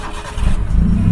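A Maruti Suzuki Zen fitted with a swapped 1.3 L engine fires up by push-button start, its close, loud low rumble swelling and settling into a steady throaty idle.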